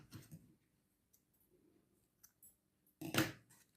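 Scissors snip through knitting yarn on a hand-knitted baby cap. One sharp, close cut comes near the end, after a few faint rustles and clicks, with no talking.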